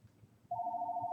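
A telephone starts ringing partway through, a steady electronic tone that continues loudly to the end over quiet room noise.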